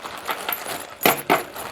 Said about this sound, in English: I don't know if y'all can hear the tumbler running right now or not